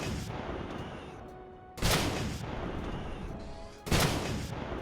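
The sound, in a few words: vehicle gun firing in video game Starbound mod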